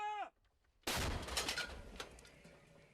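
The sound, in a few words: gunfire in war footage from Ukraine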